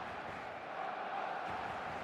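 Stadium crowd noise in the eFootball soccer video game before kickoff, a steady, dense roar of many voices that swells slightly midway through.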